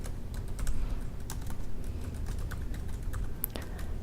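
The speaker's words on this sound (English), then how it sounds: "And then I'll just type in a password." Fingers type a password on a computer keyboard: a quick run of light, close clicks at an uneven pace, fairly quiet over faint background hiss.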